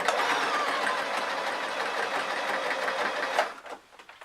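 A sewing machine runs a line of stitches on a pyjama vest top, a close, loud, steady mechanical whir with a rapid rhythmic chatter. It strains a little, then stops abruptly near the end.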